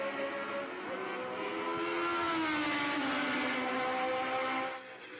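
Formula One race cars at the Rolex Monterey Motorsports Reunion scream past in a loud, sustained engine wail with rising and falling pitch as they race, dropping off slightly near the end.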